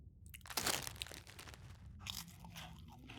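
Crunchy, salty crackers are eaten in a video game, giving a close, dry crunching and chewing sequence with several bites over a few seconds.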